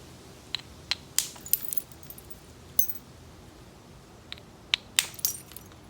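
Obsidian flakes knapped off a cobble, a series of sharp, glassy ticks and clinks arriving in irregular bursts over several seconds, close and crisp against a quiet background with no talking.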